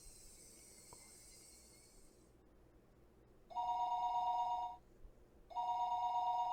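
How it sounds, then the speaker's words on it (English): A telephone rings in the visual novel Higurashi When They Cry: after a quiet stretch, two long, bright electronic ring bursts sound clearly, one following the other after a short pause, with no voices. "Phone rang for the third time."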